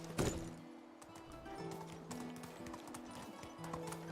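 Donkey hooves clip-clop in the medieval survival game Medieval Dynasty, a steady trotting patter over low ambient hum, with a sharp louder step near the start and a faint whinny-like call.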